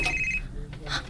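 A cellphone ringing, a short electronic ring tone with repeated bright tones about a second long, heard under and between voices.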